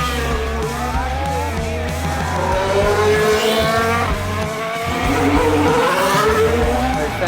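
Formula 1 cars lap the track during the first practice at the Bahrain GP, their engines screaming loud and near, the pitch rising and falling as they pass one after another, with no talk.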